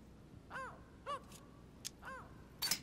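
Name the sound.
mynah bird calling in The Council video game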